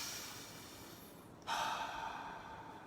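One person demonstrates deep breathing: a long, soft inhale hisses quietly, then a sudden loud exhale bursts out and trails off close to the mic, with no talking.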